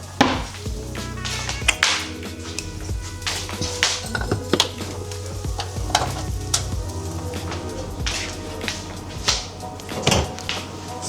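Food sizzling and frying in a pan in a home kitchen in New Zealand, with repeated scraping stirs and utensil knocks against the pan over a steady sizzle, close and clear.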